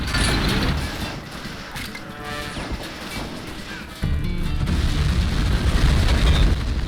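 A tank is destroyed in the World War II strategy game Men of War, with loud crashing blasts, mechanical clatter and a sharp burst partway through, followed by sustained rumbling battle noise.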